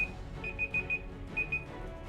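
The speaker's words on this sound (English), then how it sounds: "do I have an alarm on?" An alarm goes off in From the Depths, a clear high electronic beeping in short repeated bursts, four quick pulses then a pause and two more, over a steady background of game noise.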